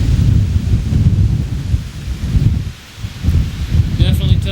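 Gusty wind roaring at the base of a lighthouse in Ilwaco, a dense low rumble that briefly drops near the middle before surging again, with a faint voice-like trace at the end.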